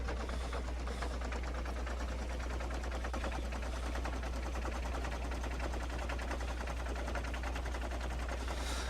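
Gunfire from the video game Factorio rattles as a continuous, dense stream of rapid shots over a low steady hum, holding an even loudness throughout with no talk.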